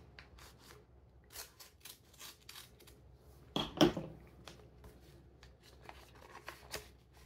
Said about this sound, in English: I am now opening the envelope, just making sure I've removed everything from it.